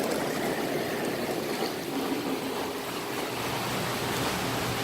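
Continuous rushing water churns from the jets of a St. Lawrence swim spa, switched by a diverter valve, a dense steady hiss and roar filling the space without a break or voices.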